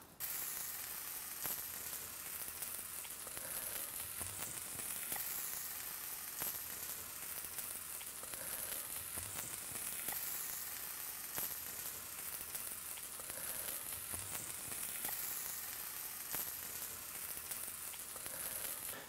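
An omelet with vegetables sizzles steadily in a hot pan, a continuous bright hiss of frying with faint crackles and no voices.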